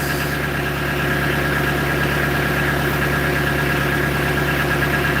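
Idling engine of a new gardening machine, a close, loud, steady mid-pitched drone with an even vibrating throb that runs unbroken throughout, with no voices.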